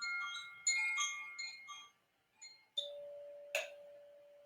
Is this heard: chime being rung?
yes